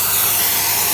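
A shop vacuum runs with a steady, loud airy roar and whine, unbroken for the full second and heard alone.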